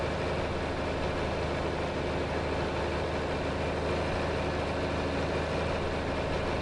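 Tractor engine in the video game Farming Simulator 25 running at a steady, loud, constant drone with a low rumbling hum and no breaks, alone without talk.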